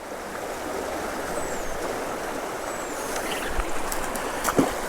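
A creek flows below a cliff with a constant broadband rush of moving water at moderate loudness, and a few faint splashes and knocks come near the end.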